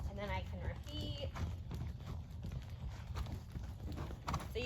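A horse trotting in a riding session, its hooves clip-clopping in a steady rhythm at moderate distance, partly masked by continuous low rumble and background noise.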